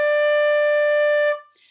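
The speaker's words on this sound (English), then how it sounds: "So here is D. D is going to sound like this." A flute sustains a single steady D note, clear and close, holding evenly for over a second before fading away, with no talk.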